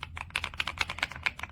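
Typing on a Kisnt KN85 wireless 75% mechanical gaming keyboard, a quick steady run of slightly muted clicky keystrokes, close and clear.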